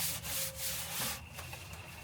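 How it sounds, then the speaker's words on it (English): A door panel is scraped smooth in preparation for a suede covering, continuous close rubbing strokes with rhythmic swells and no talk. "I'm not only scraping it to get it to stick, but I'm trying to make it smooth."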